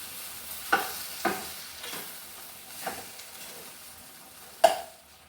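Tapioca stir-fried in hot oil gives a steady, close sizzle, broken by a few sharp scrapes as the pieces are stirred around the pan, with no voices.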